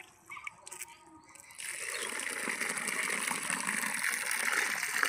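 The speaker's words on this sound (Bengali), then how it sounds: "জল দেওয়া হবে এবার" Water poured from a container onto a newly planted papaya seedling in soil, a steady close gushing splash that starts after a few quiet moments and continues to the end, with faint birdsong behind.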